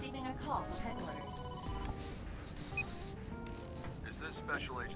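A telephone rings in the video game AI: The Somnium Files, its repeating bell tones sitting over game music and voices.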